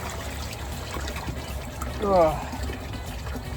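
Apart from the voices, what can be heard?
pouring water into a pond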